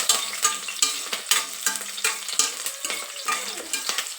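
Green chillies crackle and fry in a hot pan of oil, with dense sizzling and repeated sharp pops and stirring scrapes, close and steady throughout.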